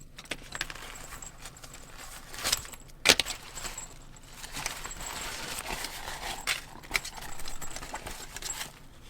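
Small DJI Mic Mini 2 accessories rattle and jingle as they are pulled from a pouch, giving sharp metallic clinks and light handling rustles close to the microphone.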